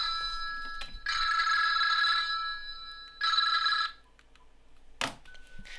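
A landline telephone rings in bursts, two long electronic trills with a pause between, loud and close, followed by a click as it is handled.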